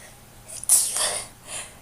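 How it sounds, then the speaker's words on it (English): A single sneeze from a woman with an allergy flare-up, up close: a quick sharp intake, then a loud breathy burst tapering off into a softer exhale, with no speech. "every time I go to his house, I freaking sneeze like crazy"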